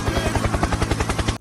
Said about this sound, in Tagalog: Helicopter, helicopter!